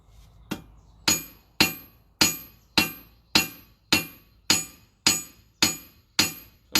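A hammer strikes hot metal on an anvil to draw it out, eleven ringing blows at a steady, even rhythm, each loud and close with a sharp metallic clang that decays quickly, and no talk.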